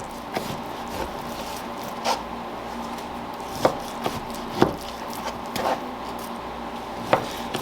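A knife slices steaks from a larger cut of meat, producing sharp, irregular cutting knocks on a board over a soft background hum, close and moderately quiet, with no voices.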